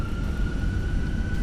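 Airliner jet engines in a flight simulator game, with a steady high whine held over a deep, continuous rumble. The sound is moderately loud and constant throughout.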